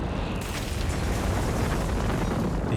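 Mortar shells explode on a Company of Heroes 3 battlefield on the Longstop map: a steady, rumbling wash of blasts and debris noise, moderately loud and sustained without pause.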